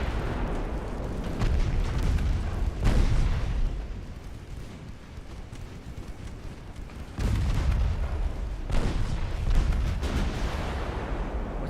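Heavy naval guns boom in Ultimate Admiral Dreadnoughts, a warship battle game: loud, rumbling salvos in dense bursts, with a lull in the middle before another barrage of deep blasts.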